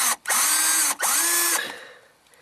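A handheld screw gun whirs in two long, loud bursts with rising and falling pitch, driving screws into an ignition lock column, then winds down and stops.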